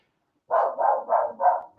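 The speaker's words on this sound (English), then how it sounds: "And my dog is still barking." A single dog barks four or five times in quick, even succession, close and fairly loud, with no other sound around it.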